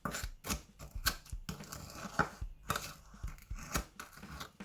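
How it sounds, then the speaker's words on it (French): Sugar granules crushed into a slime mixture give dry, gritty crunching and scraping strokes in an irregular rhythm, close and fairly quiet, with no talk. "Je viens essayer d'écraser le sucre quand même."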